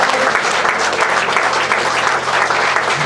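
Church congregation at a Sunday service applauding to acclaim the Lord, dense sustained clapping from many hands filling the room, loud and close, with no break.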